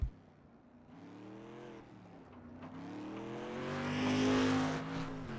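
A street stock race car on a simulated Kern County Raceway Park track in an iRacing league event, its engine droning and rising in pitch as it accelerates down the back straight, loud and continuous with no talk.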